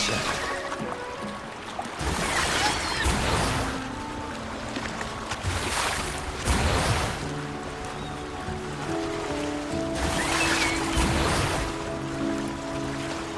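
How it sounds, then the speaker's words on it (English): A sailing boat cruising at full speed across open water in the video game Wuthering Waves, a continuous rushing wash of water and wind with swelling surges every few seconds, no voices. "Now all we need to do is sail full speed ahead toward our destination"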